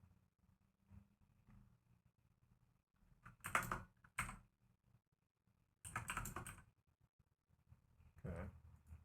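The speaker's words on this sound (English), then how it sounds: "Let me type in this token." Quiet bursts of typing on a computer keyboard, a few short clusters of rapid key clicks separated by pauses, close and soft, with no talk.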